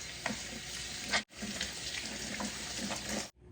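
Water runs steadily from a kitchen sink tap while hands are washed, a broadband splashing rush with a brief break near the middle, ending abruptly.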